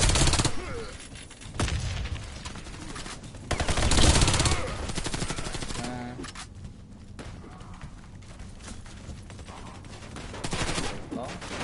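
Rapid submachine gun bursts fired from the hip in close quarters in the first-person shooter Warface, loud and near, with repeated automatic volleys and brief pauses between them.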